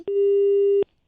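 A telephone busy tone sounds right after a call is hung up: one clear, steady beep of just under a second, sharp clicks at its start and end, then silence.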